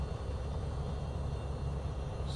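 Beechcraft G36 Bonanza single-engine propeller plane in Microsoft Flight Simulator, flying a practice pattern at Republic airport on Long Island, its engine a steady, loud low drone throughout with no talk.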